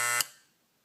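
An Andis hair trimmer buzzes steadily and loudly, then cuts off abruptly and its hum fades away within a fraction of a second.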